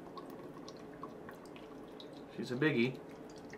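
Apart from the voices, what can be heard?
pouring Paulaner Oktoberfest beer from a king can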